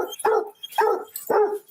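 A dog named Blue Boy barks three times at a steady rhythm, each bark loud, close and full-bodied, with short pauses in between and no talking.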